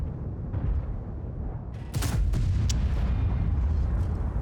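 Heavy tank cannon booms in a World of Tanks battle, the VK 72.01 K firing a big sharp blast at about the two-second mark over a constant loud rumble of engine and battlefield noise.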